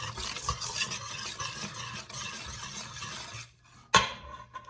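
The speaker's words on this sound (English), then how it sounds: "So now we're going to add those ingredients and give it a little mix" Spoon stirring scone ingredients in a mixing bowl with Amish friendship starter, a steady scraping and clinking close up for several seconds, then a pause and one sharper knock of utensil against the bowl.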